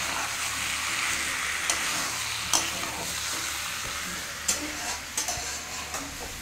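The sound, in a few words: chicken being fried and stirred in yogurt without oil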